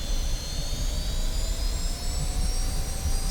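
An F-86F Sabre jet engine in DCS World drones with a steady whine and broad roar, loud and close with no talk, as the throttle is run up on the runway.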